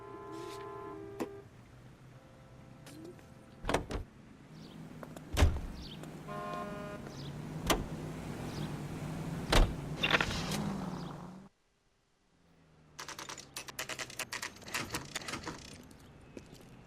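A car drives through 1940s Los Angeles streets in the crime game L.A. Noire. A steady engine hum runs under sharp clicks and thumps and brief horn toots, then cuts out for a moment and returns with busy clattering.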